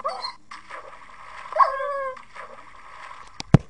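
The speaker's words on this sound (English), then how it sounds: "That guy is killing my doggy." A Minecraft dog whimpers and yelps while being attacked in a multiplayer game, with short high whines rising and falling, then sharp hit sounds near the end, fairly close and clear with no talk.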